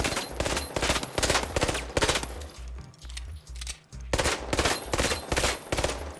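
Rapid automatic gunfire from a weapon in the video game The Finals, loud and close, in two sustained bursts separated by a short pause.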